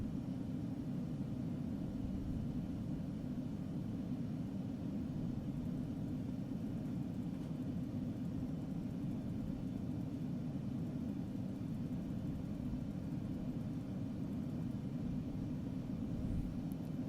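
A fixed-wing aircraft engine drones steadily in flight at about 3000 feet in the Prepar3D flight simulator, a constant rumbling hum that holds unchanged throughout with no voices.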